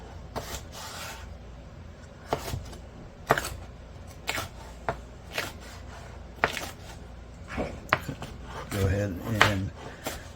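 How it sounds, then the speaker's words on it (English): A knife chops a medium-large bell pepper on a cutting board in a series of crisp, irregular close knocks, about a dozen cuts with small scraping sounds, a brief voice near the end. "chop this up"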